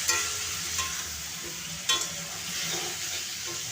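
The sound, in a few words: stirring vegetables and dal in a pan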